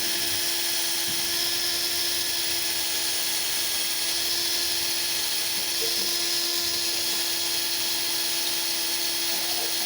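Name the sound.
drilling with a drill through a drill guide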